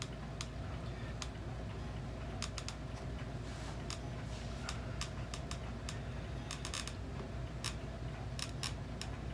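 Scissors snip through material while a 1929 Ingraham mantle clock is restored, giving close, crisp irregular clicks and cuts, alone over a steady low room hum.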